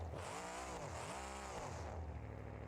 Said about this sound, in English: so we're just wheel spinning at this point